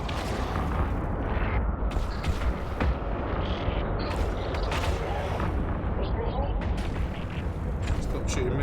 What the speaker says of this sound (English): Stop shooting missiles at me.